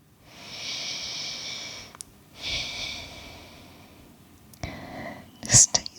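Slow, deep breaths during a calm, gentle Pilates stretch, drawn in and let out in long airy hisses close to the microphone, a few soft sniffs between them and no talking.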